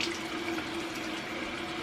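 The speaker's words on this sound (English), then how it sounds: "And now you just rinse it off with water" Tap water running into a sink while rinsing a face, a steady close splashing stream with no talk.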